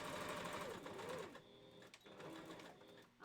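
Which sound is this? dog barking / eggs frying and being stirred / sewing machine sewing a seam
sewing machine sewing a seam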